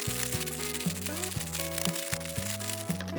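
Salted cucumbers rubbed inside a plastic bag, a steady close crinkling and rustling of plastic under soft background music.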